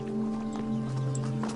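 A horse's hooves clip-clop steadily and fairly close over a steady tonal hum, with a brief whinny-like rise partway through.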